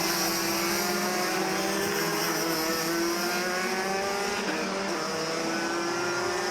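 DD2 Masters racing karts at Zwartkops circuit drone past in a continuous high-pitched engine whine, several two-stroke motors layered together at a steady distance, with no talking.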